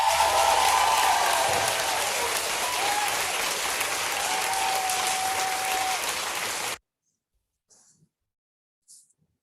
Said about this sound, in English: So give everybody a big round of applause